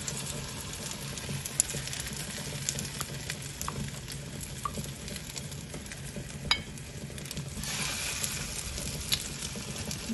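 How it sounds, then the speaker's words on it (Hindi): Shami beef kababs dipped in egg shallow-fry in oil with a faint, steady sizzle and a soft crackle that runs throughout, with no voices. "अब मैं इसको फ्राई करने लगी।"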